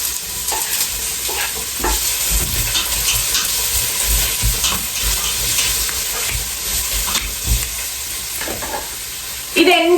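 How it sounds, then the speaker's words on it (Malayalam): Garlic and onion sizzling in hot olive oil in a pan, a steady, dense frying hiss with occasional stirring scrapes, close and continuous, with a louder burst near the end. "ഒലിവ് ഓയിൽ ഒഴിച്ചിട്ട് പാൻ നല്ലപോലെ ചൂടായേ. അപ്പോഴത്തേക്ക് നമുക്ക് നമ്മുടെ ഗാർലിക്കും അണിയനും എല്ലാം കൂടെ ഒന്ന് റോസ്റ്റ് ചെയ്യാം."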